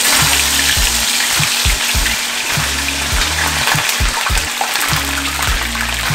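Escovitch fish frying in hot oil in a Jamaican kitchen, a loud, continuous crackling sizzle over a rhythmic low thumping pulse.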